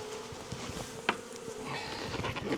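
Honeybees buzz around an open beehive, a dense close drone of many wings with individual bees swelling past, steady and alone.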